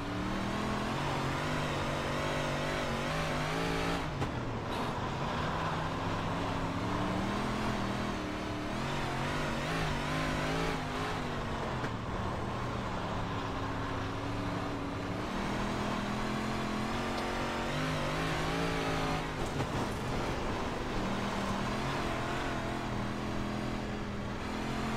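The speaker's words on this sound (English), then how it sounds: "there's some laps in the 358 modified here at Kern County" A 358 modified race car laps the paved Kern County oval in iRacing, its mid-pitched engine droning steadily and loud throughout, with rising and falling revs through the corners and down the straights, alone without talk.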